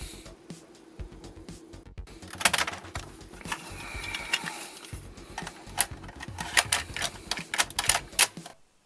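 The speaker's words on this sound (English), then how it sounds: "Okay, the tape is in the drive" A tape drive takes in a cassette with a string of mechanical clicks, clunks and whirring motor sounds. The clatter is close and uneven and grows busier toward the end.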